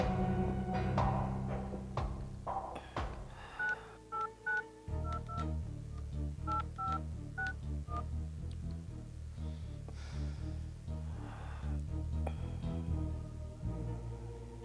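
A telephone is dialed for a call, a run of short, distinct keypad tones sounding one after another over a background music bed.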